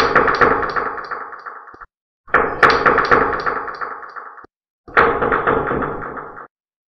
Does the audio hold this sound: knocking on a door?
yes